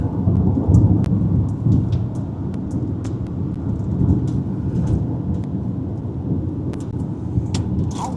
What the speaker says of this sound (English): Big time lightning strike right out in front of this.